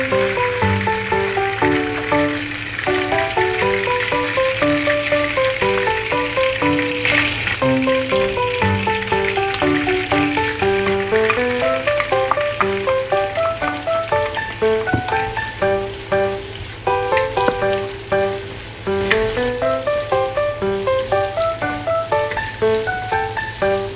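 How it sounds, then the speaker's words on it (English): Chopped ginger and dried chilies stir-fry in a wok, a loud, continuous sizzle and crackle of hot oil with occasional scraping as the ingredients are tossed, steady throughout. "Stir-fry chopped ginger and dried chilies."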